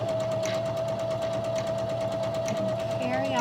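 A sewing machine stitches with a twin needle in a steady, continuous whir at close range, its motor hum holding an even pitch throughout, with no talk over it.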